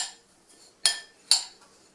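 Utensil clinking twice against a bowl while pecan crust mixture for baked salmon is stirred, two sharp close taps over a quiet background.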